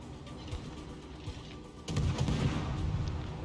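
Naval guns firing from a destroyer in World of Warships, a low booming salvo that swells into a louder, rumbling barrage partway through, with continuous battle noise underneath.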